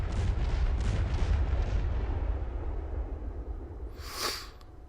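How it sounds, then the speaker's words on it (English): Guns firing in slow motion in the video game Tides of War, a heavy low rumbling boom that slowly decays, then a brief sharp hissing burst near the end. "So I'm going to fire the guns."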